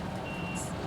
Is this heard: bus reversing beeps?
yes